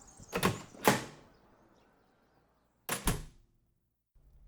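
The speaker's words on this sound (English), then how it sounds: "Alfonso, open the door" A front door opens with two sliding, thudding bursts in quick succession, then a quiet pause before a second pair of similar door sounds, all close and fairly loud with no voices over them.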